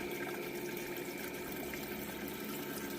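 Water flows steadily over a gold sluice on a Miller table, a continuous broadband rushing and trickling wash held at an even level throughout, with no voices.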